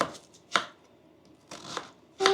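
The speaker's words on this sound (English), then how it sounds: "Onion's a lot harder to cut than a green pepper with that other knife." A knife cuts through an onion in a home kitchen while lasagna is being made, giving several distinct, crisp chopping strokes spaced with short pauses, close and moderately loud, with no talking.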